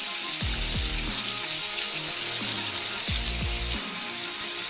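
Bok choy hits a hot pan of cooked-down carrots with a steady loud sizzle and wet hiss, punctuated by a few low clunks of the pan and utensil, close with no talking.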